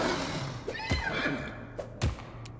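Horse neighs and heavy hoof thuds in combat from the video game Pathfinder: Wrath of the Righteous, a few sharp impacts over a busy game soundscape, no talking.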